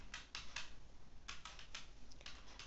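Quick, quiet keystrokes on a computer keyboard come in short bursts of clicks, close and faint over a soft hiss.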